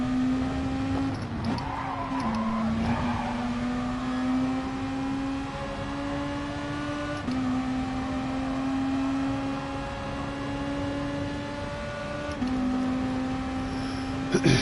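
Race cars lapping a track in GT Sport, a steady engine drone that shifts pitch with each gear change, close and continuous, with a voice talking over it.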